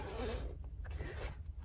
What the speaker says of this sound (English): It's got another zipper here. This zipper's a little bit lame.